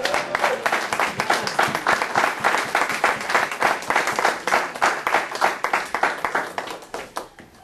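A church congregation applauding, a dense, lively crowd of clapping hands that keeps up steadily for several seconds before tapering off toward the end.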